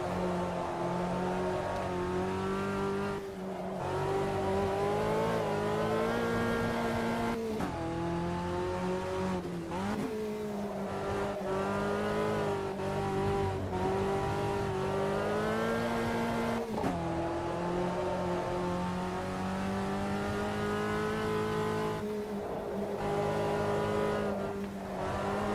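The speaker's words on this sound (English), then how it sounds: "Front wheel drive drift, dragging the rear end." A front-wheel-drive race car in Automobilista 2 with its engine droning continuously, pitch rising and dropping through gear changes while drifting, loud and steady without voices.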